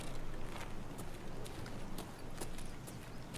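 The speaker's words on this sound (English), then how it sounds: "the footsteps also increase in noise, therefore making you easier to locate among players or scavs around you" Quickened footsteps in the game Escape From Tarkov, a steady run of soft, evenly spaced thuds over a constant background rumble, close and moderately loud, with no talking.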